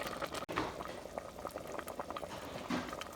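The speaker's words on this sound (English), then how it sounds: "Gonna let this simmer for maybe another 5 to 10 minutes" A pot of seasoned food with Earth Balance vegan butter simmering, giving a steady, close, soft bubbling with scattered small pops and crackles throughout.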